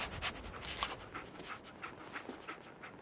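Dogmeat, the dog in Fallout 4, pants in quick faint repeated breaths close by, soft and steady throughout with no talk.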